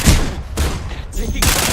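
Gunfire in Farlight 84, loud close bursts of automatic shots in quick clusters separated by short gaps, with a voice speaking over it.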